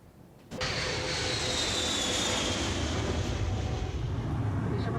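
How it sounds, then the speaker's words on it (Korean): Steady broadband roar of a jet airliner's engines heard from inside the passenger cabin on a flight to Chongqing, China, rising abruptly after a quiet first half-second and then holding loud and constant. "중국 충칭으로 향하는 비행기 안."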